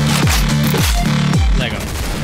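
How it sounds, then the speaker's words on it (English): Flare gun in the video game OTXO fires three heavy booms in quick succession, each with a dropping whoosh, loud and dense over constant game noise. "Flare gun."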